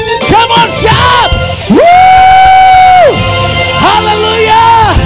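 A church congregation at a worship service shouts and cheers loudly, with long sustained whoops and overlapping cries forming a dense, close roar of many voices.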